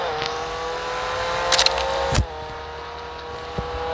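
A car driving in a Roblox video game, with a steady, fairly quiet engine hum holding one pitch and a brief swell and thump partway through, then settling back to an even drone.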